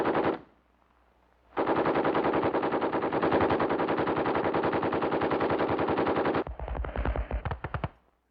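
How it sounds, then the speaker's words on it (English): Heavy machine guns giving covering fire on a WWII front line, long sustained bursts of rapid fire that are loud and close, then choppier bursts near the end after a brief silence at the start. "Working forward independently under covering fire from heavy weapons."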